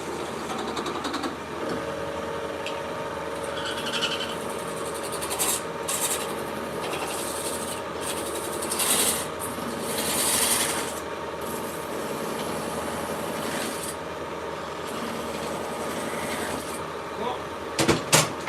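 A spinning tool works on a bell in a small bell-making shop, giving a steady rasping, rubbing whir that keeps going with brief louder surges, close up, with someone talking now and then over it.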